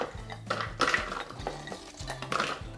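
Oreo cookies tumble into a food processor bowl with a series of light clattering knocks and rattles, moderately close and with no voices.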